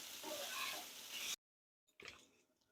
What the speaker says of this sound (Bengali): একটু নুন দিয়ে দেবো, নেড়ে চেড়ে তারপরে আমি চাউমিনটাকে নামিয়ে নেবো।